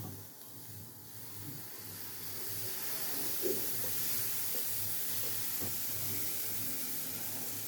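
Thick onion dosa batter sizzles on a hot pan, a soft, continuous hiss heard close, with no speech.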